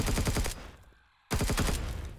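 Rapid automatic gunfire blasts at a turret in the sci-fi survival game Empyrion, two loud bursts of fast repeating shots split by a brief near-silent pause.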